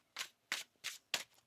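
Tarot cards are shuffled by hand in four crisp, evenly spaced riffling bursts, close and fairly quiet against a silent room.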